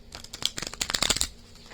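A deck of tarot cards shuffled for an astrology reading, giving a quick run of riffling, fluttering card slaps at close range that builds and then stops, with no voice.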